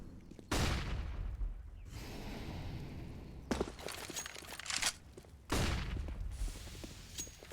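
Bursts of pistol and M4 rifle gunfire in a CS:GO tournament match, three loud broadband volleys separated by quieter stretches of in-game footsteps and ambience, with no talking.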